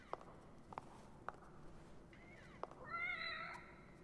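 A kitten meows in the horror video game The Evil Within: a few soft clicks and footsteps, then a rising, wavering meow that swells near the end, fairly faint and alone.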